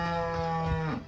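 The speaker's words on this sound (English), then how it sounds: "Also we have cows grazing because the grass is tall" A cow grazing in the tall grass of a village primary school playground lets out a single loud, close, drawn-out moo that drops in pitch at the end.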